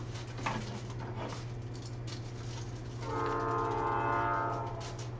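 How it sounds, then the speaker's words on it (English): A train rumbles in the background under a steady low hum, and a horn sounds a held, harmonic blast partway through, moderately distant. "Another train."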